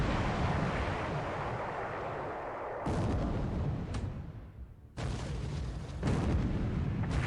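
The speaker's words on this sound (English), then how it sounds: "Minneapolis opens fire." Heavy cruiser Minneapolis firing its naval guns in a Coral Sea battle game, broad booming salvos filling the clip, with sharp fresh blasts at about three and five seconds over a continuous rumbling roar.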